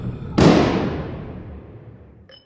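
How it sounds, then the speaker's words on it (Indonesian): A single gunshot in a film as a man is shot from behind: one sharp, loud crack followed by a long, fading reverberant tail, with nothing else around it. "kesempatan itu dimanfaatkan Winstead untuk menembak John dari belakang"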